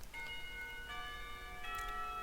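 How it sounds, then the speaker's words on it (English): A school clock tower bell in Katawa Shoujo rings out in a few sustained, resonant tones that overlap and fade, moderately loud and unaccompanied. "bell ring, signaling the end of the period"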